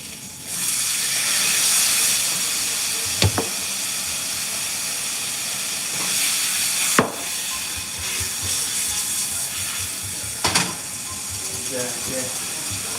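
A T-bone steak sizzles in a frying pan as a steady, loud hiss with a few sharp crackles and pops scattered through it, and no talking.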